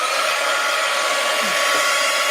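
A handheld hair dryer blows steadily to dry paint on postcards, a loud, constant whooshing hum with no breaks across the whole stretch.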